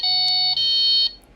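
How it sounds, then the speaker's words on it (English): A Delkim fishing bite-alarm receiver sounds its anti-theft alarm, a loud, close electronic tone that holds steady, then steps to a second pitch before cutting off after about a second. "then it will set off the anti-theft on the receiver"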